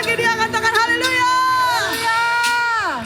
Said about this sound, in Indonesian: Sorak-sorai bagi dia, katakan haleluya.